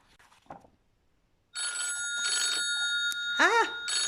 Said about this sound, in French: j'ai le téléphone qui sonne en même temps